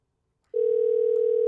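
A single steady telephone call tone sounds after a short silence, clear and continuous while a number is being dialed.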